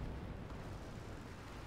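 Anti-tank gun in Company of Heroes 2 firing at a Goliath, a dense low rumbling boom that fills the whole moment, sustained and heavy without distinct separate shots.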